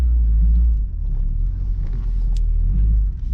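The engine of a Mark III car, just started, runs with a loud, deep, steady rumble that eases slightly after the first second and holds, with no talking.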